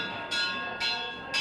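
Tubular bells and chimes struck by a small child dressed as Spider-Man, three bright ringing strikes about half a second apart, each sustaining a shimmering metallic tone into the next.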